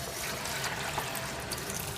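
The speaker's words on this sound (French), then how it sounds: "Je rajoute de l'eau" Water trickles steadily into a Moulinex Companion food processor bowl while hachis parmentier is prepared, a close, continuous pour with no voices over it.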